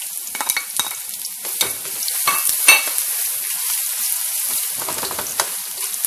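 Shallots, green onions and garlic fry loudly in sugar and oil for Lao fried noodles, a bright continuous sizzle broken by repeated stirring scrapes and clinks.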